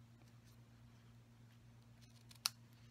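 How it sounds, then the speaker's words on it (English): A single quick snip of scissors cutting a piece of ribbon for a handmade card, close and crisp against a quiet room hum. "cut a piece of ribbon"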